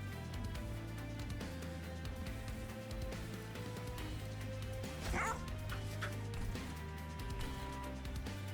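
Bone Dog unit in the video game Monster Train 2 barks and yips, short dog calls and a small whimper rising over a continuous game music bed.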